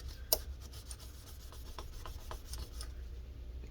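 Soft rubbing and scraping strokes of a cloth dampened with isopropyl rubbing alcohol wiping grime off Lenovo ThinkPad L450 laptop parts, close and fairly quiet, with one sharper scratch near the start.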